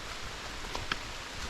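Soft rain falling along a forest hiking trail in the Laurel Highlands, a steady faint hiss of drops on leaves and ground with a couple of tiny brighter taps.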